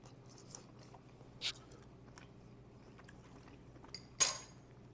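Chewing on a bite of smoked pulled beef sandwich meat with pepper, faint and close, with a couple of brief crunchy bites and a soft clink of cutlery over a quiet room hum.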